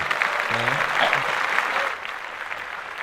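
A burst of clapping from a small group, fairly close, then it quickly fades, with a voice speaking over it.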